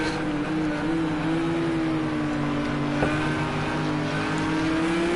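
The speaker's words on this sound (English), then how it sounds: "The Porsche is catching up to the Merc." Porsche and Mercedes GT3 race cars circle the Algarve circuit with a loud, continuous engine drone that stays nearly constant in pitch. The strong steady tone carries no talk over it.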